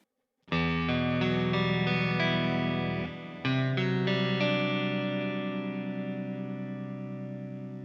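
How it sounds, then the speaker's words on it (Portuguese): An electric guitar played through a Tonex pedal and HX Stomp with delay and reverb rings out in sustained chords, one strum, then a second that trails off slowly in echoing tails, loud and with no voices. "Vamos jogar um delay e um reverb junto?"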